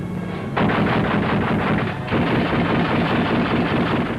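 Light and heavy flak guns firing at tanks and mounted infantry in a 1944 German newsreel: dense, continuous rapid gunfire with heavy thuds, loud and close, with no talking.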